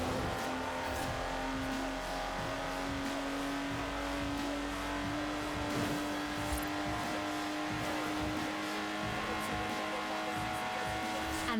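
A Lotus Exige sports car drives in the racing game Forza Horizon 4, its engine holding a steady, continuous drone throughout while a voice talks over it.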